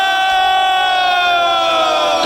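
A dense, loud crowd cheers and shouts continuously at a live concert, voices merging into a sustained roar with sharp high whoops riding on top.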